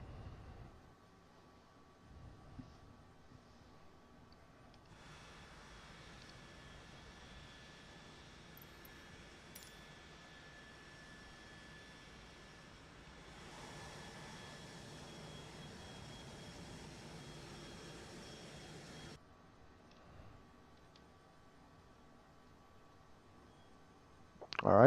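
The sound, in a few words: Phenom 100 jet engine number 2 starting, Flight Simulator 2020 video game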